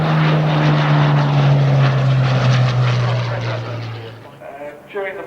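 A Hawker Hurricane fighter flies past at the Shuttleworth air show, its loud, steady propeller-engine drone with a strong low hum holding for about four seconds before fading, with a voice speaking over the end.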